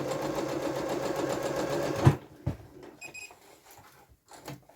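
A sewing machine runs steadily while sewing the front pocket of dungarees, then stops abruptly, leaving scattered clicks and soft handling noises.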